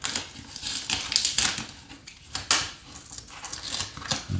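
Cardboard and paper packaging of a Kindle Scribe being torn open by hand, a busy run of crisp rips, crinkles and snaps, close and fairly loud, with no talking.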